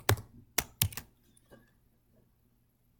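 A few sharp clicks of a computer keyboard being typed on while entering an @Risk formula, three quick loud keystrokes followed by fainter taps and quiet.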